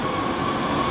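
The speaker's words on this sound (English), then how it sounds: "And here is our train. It's a light rail train." Articulated light rail train pulling in at a Bay Area station, a steady close rumble of rolling wheels and rail noise with a faint high squeal running throughout, no voices.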